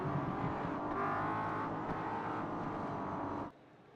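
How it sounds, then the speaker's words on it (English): Pace car in iRacing at New Hampshire accelerating away, a steady engine drone with rising harmonic tones that holds for several seconds, then abruptly cuts off near the end. "as the pace car takes off"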